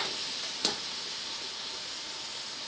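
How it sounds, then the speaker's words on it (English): Shrimp frying in a hot pan, cooked in batches for lemon shrimp, giving a steady, even sizzle with one sharp crackle early on. "You hear that nice sizzle?"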